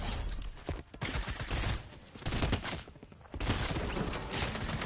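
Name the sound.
gunfire from Fortnite video game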